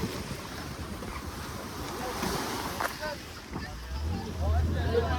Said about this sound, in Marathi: काय फायनली बोट आलेली आहे बघू शकता मी.